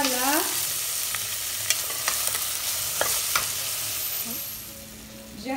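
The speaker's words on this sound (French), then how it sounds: "Je vais faire revenir les oignons, poivrons et tout ce qui va avec" Onions and peppers sauté in oil in a pan as filling for tuna bread. A bright, steady sizzle runs throughout, with occasional clicks and scrapes from stirring, and it fades slightly near the end.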